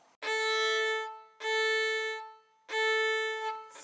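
Bowed strings sounding on the open A string: three long, sustained notes of steady pitch with brief silent gaps between bow strokes, close and clear.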